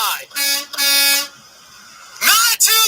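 A human voice imitates a semi truck's air horn with several loud, blaring honks, two long held blasts, a pause, then a rising squeal into another honk.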